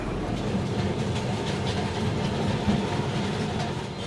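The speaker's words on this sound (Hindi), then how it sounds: "कोलकाता की शान और पहचान एक ट्राम भी है" A Kolkata tram rumbles along its tracks with a continuous low clattering roll, close and steady throughout, with faint background voices.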